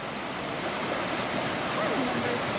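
Steady rushing of a stream at a creek crossing, a continuous broadband wash of flowing water close by with no breaks.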